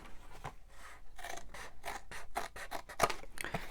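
Paper being cut with scissors for a journal: a rhythmic series of crisp snips, about a dozen cuts close up, alone without talk.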